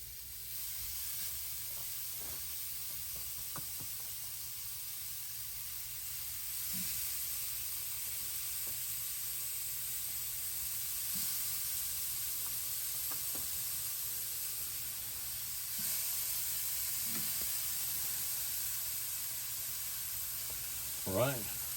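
Ranch cheeseburger patties sizzle on a heated grill with a steady, soft hiss throughout, now and then lifted by brief faint crackles.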